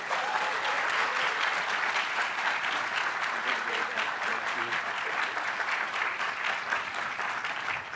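Audience at an event welcoming Maryland Governor Wes Moore claps steadily, a dense sustained wash of applause from a sizable crowd, even in loudness throughout.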